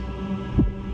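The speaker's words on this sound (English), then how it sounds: "I hear it. Finan's heartbeat." Finan's heartbeat in a Honkai game cutscene: a single deep, muffled thump over a steady low hum, faint and alone.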